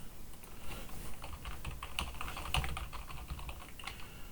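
Rapid, irregular keystrokes on a computer keyboard while an email is written, a steady patter of light clicks with a few sharper taps, close and alone with no voices.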